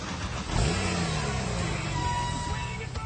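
A supercar engine revs up into a rising, sustained roar that holds steady near and loud over the full stretch, with a faint whine riding on top.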